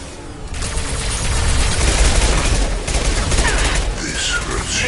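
Sustained gunfire rattles through a firefight in Mass Effect 2, played in the Legendary Edition on a PS4 Pro. Loud, dense bursts of shots run continuously for about five seconds, with brief gaps and other game effects mixed in.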